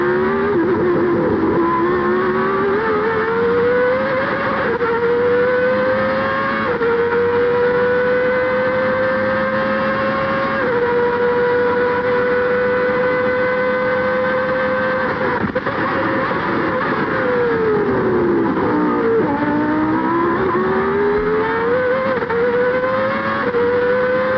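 A McLaren Formula 1 car driven by Gerhard Berger at the 1990 Italian Grand Prix at Monza, recorded onboard. The engine sings loudly and steadily, its pitch rising and falling through gear changes with no talk.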